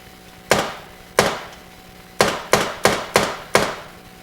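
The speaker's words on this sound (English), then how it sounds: "We're still getting a little bit of noise on that flipper, which isn't great." The flipper solenoid of an A Place To Bury Strangers pinball machine fires seven times, each a loud, sharp, close mechanical clack with a slight ringing tail. The hits come irregularly, at first spread out and then in a quicker run, with no talking.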